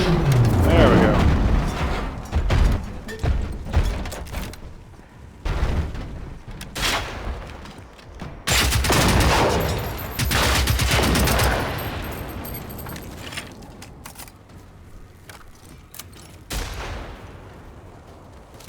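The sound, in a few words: gunfire in video game Generation Zero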